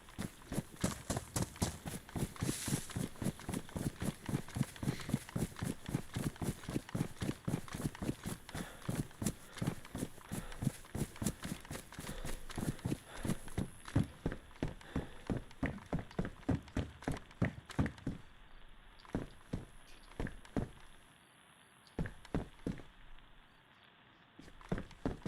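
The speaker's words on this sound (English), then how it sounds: "Keep thinking I'm hearing footsteps. I think it's just my own footsteps." A video game character's own footsteps, a long run of steady rhythmic thuds close by, loud and even, slowing and turning sparse toward the end.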